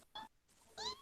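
Pet cat meowing twice, short soft mews close by, with a brief pause between them.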